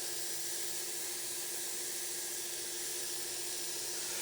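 Ground beef browns in a pan for beef chili, giving a steady, even sizzle and hiss that holds without a break, fairly loud and close, with no talking over it.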